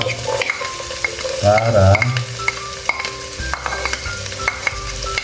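Onion and garlic stir-fried in a hot pan for pancit batil patong sizzle loudly, with repeated sharp clinks and scrapes of a utensil against the pan and a brief burst of stronger frying near the middle; a voice speaks briefly.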